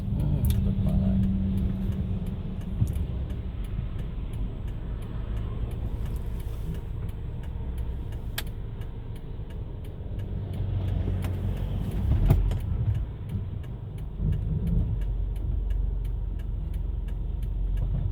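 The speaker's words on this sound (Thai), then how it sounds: "รถมาแล้ว" A car arrives and drives past on a morning street in Vientiane, Laos, its engine a steady low rumble that swells around the middle and again near the end, with faint ticking in the background.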